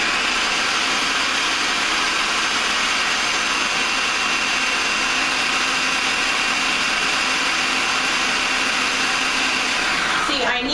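A blender whirs through a batch of raw non-dairy chocolate ice cream, a loud steady motor whine running the full length without pause, close and continuous, with no one talking over it.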